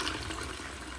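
A toilet flushes with bloo 3-in-1 cleaning foam toilet blocks in the bowl, a steady, close rush of water that runs without a break and fades only slightly toward the end.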